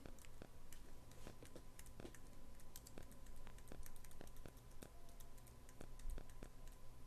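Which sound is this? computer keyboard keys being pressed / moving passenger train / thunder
computer keyboard keys being pressed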